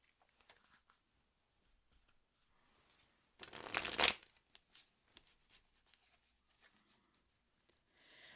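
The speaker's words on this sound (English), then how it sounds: "Okay, I'm pulling a card for you," Tarot cards shuffled and pulled from a deck, a brief loud riffle burst in the middle surrounded by quiet soft card handling and taps.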